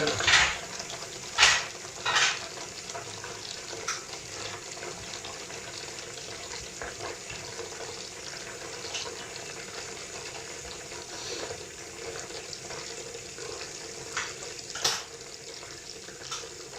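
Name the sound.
tap water running into sink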